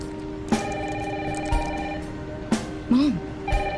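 An old-style telephone bell ringing in a Resident Evil 9 game trailer, repeated ring bursts about once a second, close and clear, with a brief vocal sound between rings.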